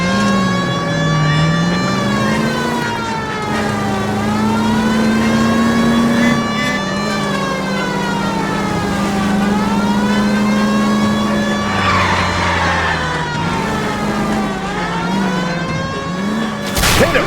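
A car engine drives in L.A. Noire with a loud, close drone that rises and falls through repeated revving swells and gear shifts, steady throughout with faint skids.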